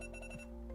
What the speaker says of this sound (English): There's my actual alarm at the bottom of the hour.